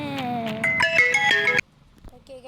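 A phone ringtone playing a loud melodic tune for over a second and a half, then cutting off into quiet background sounds with a faint tone near the end.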